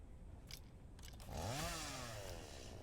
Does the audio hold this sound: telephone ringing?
no